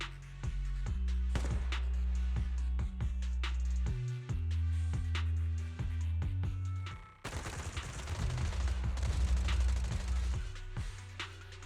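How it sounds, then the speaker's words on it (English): Rapid bursts of automatic gunfire crackle repeatedly in Zenless Zone Zero, loud and sustained suppressive marching fire, with heavy low thuds and clattering shots from several directions. "Gunfire? This pattern. Suppressive marching fire."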